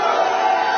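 A crowd at SneakerCon boos Donald Trump in a dense, sustained roar of many voices filling the room, loud and unbroken for the brief moment.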